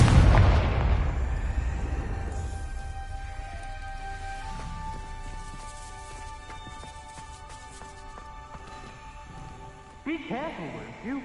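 The Confringo explosion spell cast in a Harry Potter video game, a loud burst at the start that fades into a ringing, tonal tail, followed later by a voice speaking.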